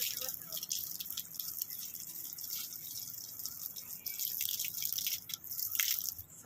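Water hisses steadily from a pipe while a pet parrot named Mittu gets a bath, with splashing and spattering throughout at close range and faint voices underneath.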